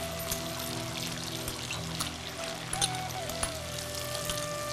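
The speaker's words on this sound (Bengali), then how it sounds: "এবার এতে তুমি কলাইয়ের ডালটা দিয়ে দাও।" Urad dal (kalai dal) poured into a pan, a soft continuous rattling patter of grains with a few sharper ticks and clinks, close and steady over low background hum.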